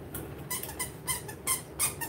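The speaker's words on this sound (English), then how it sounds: "I've got a good squeak here" A series of short, high-pitched squeaks repeating roughly every third of a second to half second, fairly faint and close, with no talking over them.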